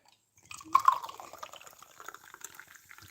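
Fanta soda poured into a cup, a short close-up liquid splash and gurgle that settles into soft fizzing and dripping.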